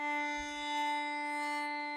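A single sustained bowed violin D string note holds steady for two seconds, clear and close, with a bright, even tone.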